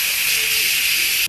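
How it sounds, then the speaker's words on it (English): Steam blasts out of a pressure cooker's release knob as one loud, continuous close hiss lasting just over a second, then cuts off abruptly; no voices. "this is the knob that you can switch to let the steam out if you wanted to"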